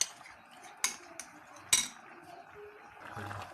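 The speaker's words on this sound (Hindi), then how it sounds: "इसको अच्छे से मिक्स करेंगे यहाँ तक कि इसका अच्छे से पेस्ट बन जाए" A spoon clinks sharply against a bowl a few times while cornflour and water are mixed into a paste, then softer scraping follows, fairly close and with no talking.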